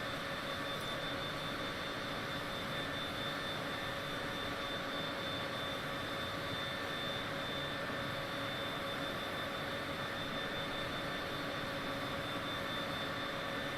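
Steady, loud cabin drone of a Cessna Citation private jet's engines in Microsoft Flight Simulator 2020, a continuous broadband roar with a faint whine on top, unbroken and without talk.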